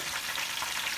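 Cheese curd fritters fry in hot oil, giving a steady, soft, bright hiss of sizzling bubbles throughout, with no voices over it.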